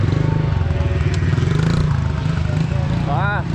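A motorcycle engine drones steadily and closely at a low pitch, with a brief rising rev near the end, while someone talks over it.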